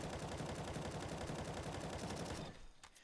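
Automatic rifle spray fire in CS:GO, a rapid unbroken burst of loud gunshots that runs for over two seconds, then stops abruptly, leaving a few faint mechanical clicks.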